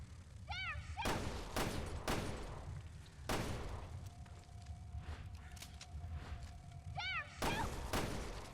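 Gunfire rings out in the video game Resident Evil Revelations 2, with several sharp, loud single shots spaced a second or two apart. Short chirping game effects sound between them and a faint steady tone hums in the background.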